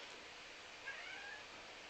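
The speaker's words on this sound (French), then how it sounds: "Je viens de rentrer le chat." A cat meows indoors, faint and distant, under a steady hiss of background noise.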